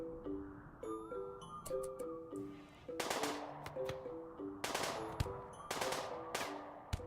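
Video game gunfire, repeated sharp broadband shots in irregular bursts over a tonal musical game backdrop, fairly close and moderately loud, with no talk.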